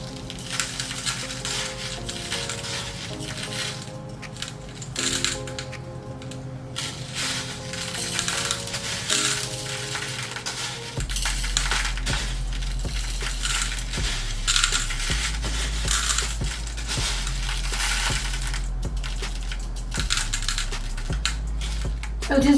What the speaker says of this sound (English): So just look and see wherever you need to move the crushed glass.